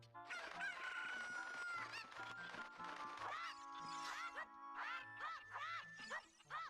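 Chickens in Zelda: Ocarina of Time cluck and squawk in a rapid, agitated string of calls, quiet and close, with bursts of game sound effects between them.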